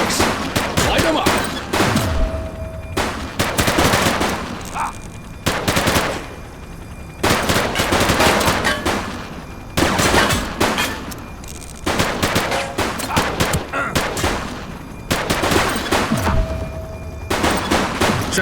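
Bursts of automatic gunfire in a police shootout with armed suspects in The Precinct, loud and close, fired in repeated volleys with short pauses between them, and no talk over the shooting.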